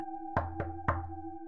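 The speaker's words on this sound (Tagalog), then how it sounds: "bigla daw may kumatok ng 3 beses sa main door" Three sharp knocks on a main door, close and distinct: two in quick succession, then a third after a short pause, with a quiet hum between them.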